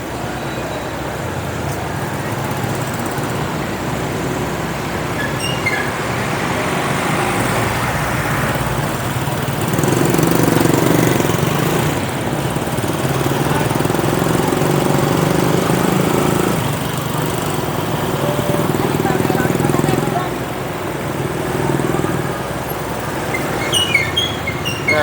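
Steady engine drone and road rumble from inside a car driving through traffic in the Philippines, swelling louder mid-way as it accelerates, with passing-vehicle noise and faint ticking near the end, no talk.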